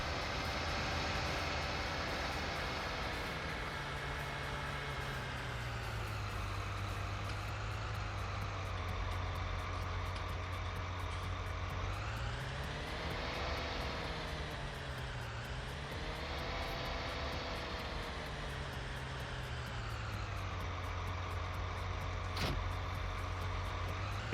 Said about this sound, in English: This tractor, I am going to get started planting some canola in that field.